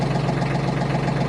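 A Branson 2515H tractor idles with its loader sitting still, a steady close low engine drone with an even throb and no speech over it.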